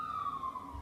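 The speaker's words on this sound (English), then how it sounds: "the ambulances and other emergency vehicles use our road frequently because it's quite a long road" Emergency vehicle siren, such as an ambulance, passing on a long residential road outside: a faint, steady wailing tone that slowly falls in pitch, distant and muffled with a low rumble underneath.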